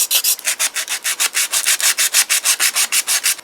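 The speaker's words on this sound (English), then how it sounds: "Sand away, sand away." Sandpaper rubs back and forth on a plastic model car deck lid in quick, even strokes, about six per second, close and loud, with no voices.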